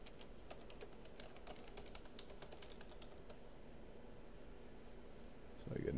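Typing on a computer keyboard during a Standard Magic: The Gathering match, a steady run of soft key clicks over a low background hum, with a louder rustle near the end.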